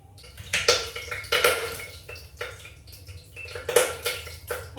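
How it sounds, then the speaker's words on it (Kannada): Bay leaves, star anise and cloves crackle and pop in hot oil in a home kitchen, a dense continuous sizzle with irregular sharper spits over a low hum. "ಚಟಪಟ ಅಂತ ಇದೆ."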